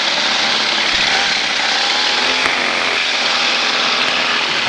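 Small airplane engine taxiing with the throttle raised, a steady loud broadband propeller drone that holds close and even throughout, with no talk.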